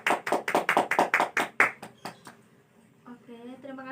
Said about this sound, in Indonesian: Kita beri aplaus untuk kelompok yang sudah presentasi